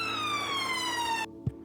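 An ambulance siren wails loud and close as a steady descending electronic tone, then cuts off abruptly, followed by a single low thump.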